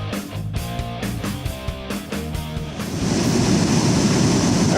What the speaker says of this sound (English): took a stop here at the falls at Little White River